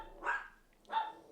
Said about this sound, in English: Don't mind the dogs